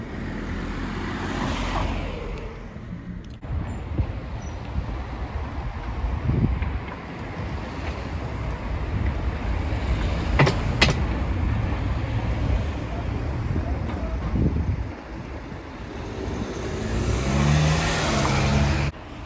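A car rushes past close to a cyclist riding a narrow bike lane in Castelnau-le-Lez, heard as a swelling whoosh over constant wind buffeting the microphone, with road rumble and passing traffic throughout.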